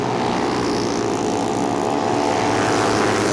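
A 1957 BSA Gold Star 500cc single-cylinder overhead-valve motorcycle races on a half-mile track, its engine a loud, continuous droning roar held close throughout with no voices over it.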